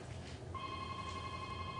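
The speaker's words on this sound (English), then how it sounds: "Our phone is ringing." A phone rings with a steady electronic tone that starts partway in and holds on, moderately loud against a quiet room, no talk.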